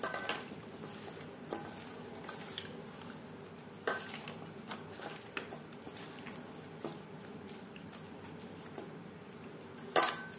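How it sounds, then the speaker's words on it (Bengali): Fish being mixed by hand with turmeric and salt in a bowl, giving soft wet squelching with scattered light clinks and taps against the bowl, fairly quiet and steady, no talking. "মাছে বেশ ভালো করে মেখে নিয়েছি।"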